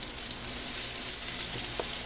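Garlic frying in a pan for bulalo, a steady close sizzle filling the clip with faint clinks of stirring, no talking.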